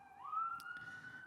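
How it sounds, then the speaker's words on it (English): A distant ambulance siren rises and holds a wailing tone, faint and thin in the background. "It's just an ambulance."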